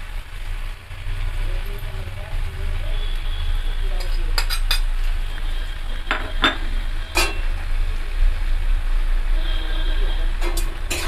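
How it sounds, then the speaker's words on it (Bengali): A spoon scrapes and clinks in a pan while ground spices are mixed into softened onion and tomato, with a low steady sizzle underneath and a few sharp metallic taps, close by. "গুঁড়ো মশলাগুলো দিয়ে আমি আবারও ভালো করে মিশিয়ে নেব"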